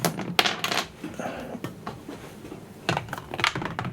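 Dice clatter as they are rolled during a Shadespire tabletop game, with a few quick rattling bursts close by on a hard surface and soft handling noise between them.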